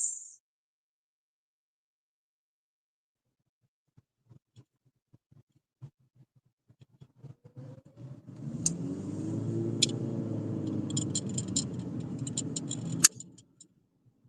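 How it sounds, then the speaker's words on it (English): A car moving through San Antonio traffic, with light ticking and clicking at first, then a steady broadband engine and road rumble that rises and holds for several seconds before cutting off. "this San Antonio traffic is getting worse and worse"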